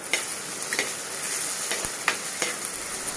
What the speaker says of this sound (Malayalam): ഇഞ്ചി, വെളുത്തുള്ളി, അതുപോലെ തന്നെ പച്ചമുളക്, കറിവേപ്പില ഇത്രയും ചേർത്തിട്ട് നന്നായിട്ടൊന്ന് വഴറ്റി കൊടുക്കുന്നുണ്ട്